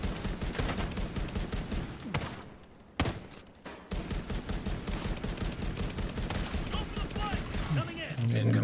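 Rapid sustained gunfire from the player's weapon in a shooter game, a dense, loud automatic stream with brief pauses around the third and fourth seconds before it resumes.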